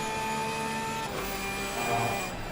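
A racing-game race car engine holds a steady high-pitched whine at sustained revs, a smooth continuous tone with a slight shift partway through and no talking.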